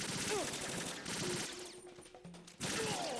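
Rapid gunfire bursts from the video game Metal Gear Solid 2 rattle loudly and continuously, broken by a short quieter gap before the firing resumes.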